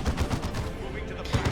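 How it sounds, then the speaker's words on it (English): Rapid heavy bolter fire in the Warhammer 40k game Dawn of War 2 Retribution (Elite Mod), a steady chugging stream of gunfire with regular low bursts across a busy battle mix. "you better get used to the sound of chug chug chug chug chug heavy bolters"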